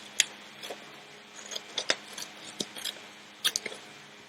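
Scissors snipping paper while cutting out plant parts for a classroom lesson: a scattered series of sharp, close clicks and snips with brief pauses between them, no voices.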